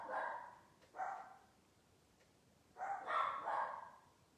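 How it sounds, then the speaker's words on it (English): A Yorkie and an Australian Terrier barking indoors, a couple of sharp yaps followed after a pause by a burst of three or four quick barks, moderately distant and fairly quiet. "I have a Yorkie and Australian Terrier. Yeah, they're barking at the wind or something."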